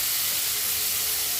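Ginger garlic paste sizzles in hot oil with sautéed onion and tomato, a steady, close, even hiss with no breaks and no talking.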